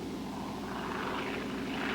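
C-47 transport plane engines drone steadily and loudly, a continuous propeller roar that holds even throughout with no pauses.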